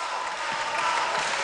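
A Queensland crowd at an APFA National Championships 2018 football match against Victoria cheers and applauds a goal, a steady broad wash of distant clapping and crowd noise across the whole stretch without a break.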